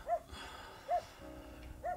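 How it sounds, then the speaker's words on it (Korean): Dog barking outside a house in Jeju, three single barks spaced roughly evenly, moderately distant and fairly quiet against a low background. "앞에 강아지가 짖네요."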